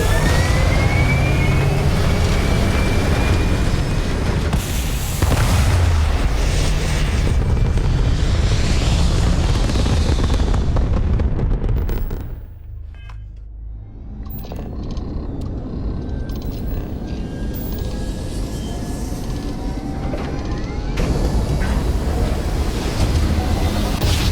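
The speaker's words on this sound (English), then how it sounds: "Engines firing." Spaceship engines fire in the Starfield game, a loud, sustained roaring rumble that dips briefly in the middle before swelling back to a steady, airy drone.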